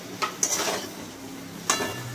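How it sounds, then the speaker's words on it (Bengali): Ridge gourd and potato with shrimp being stirred in a pan, a spoon or spatula scraping and clinking against the metal in a few sharp knocks over soft rustling and faint sizzle, with no voices. "তো চলুন এবার সবজিটাকে ভালো করে নাড়িয়ে নিই আমি।"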